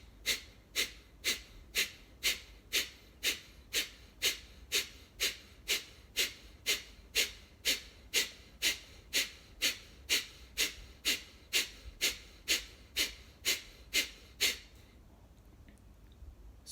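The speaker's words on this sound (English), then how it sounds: "Fast, rhythmic, shallow breath." Breath of fire breathing exercise: fast, rhythmic, shallow exhales through the nose, about two sharp puffs per second repeating evenly and close-up, stopping just before the end.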